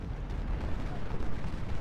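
Cannon fire in Ultimate General: Civil War at Gettysburg near Culp's Hill, a low continuous rumble of booming artillery blasts overlapping in the distance.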